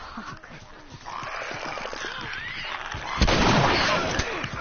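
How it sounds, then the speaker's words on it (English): Gunfire from a character shooting an enemy in The Last of Us, on Grounded difficulty, cracking out as a few sharp bursts, the loudest near the end, over a low game backdrop of growls and rustle, with voices talking. "I'm just shooting him for fun."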